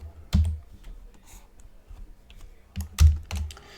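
Keys clack on a computer keyboard in a few quick bursts with quieter scattered taps between them, close up and with no voices.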